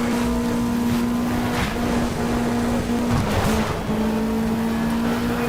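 A rally car engine in Sega Rally drones loudly and steadily at a held pitch, racing past a Toyota on a corner, with a brief dip partway through and other engine noise around it, with no voices.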